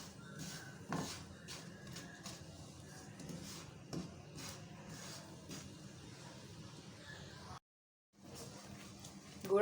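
A spatula scrapes and stirs melting jaggery in a pan over a medium-low flame, soft irregular clinks and scrapes at close range, quiet and steady, broken by a brief silence near the end.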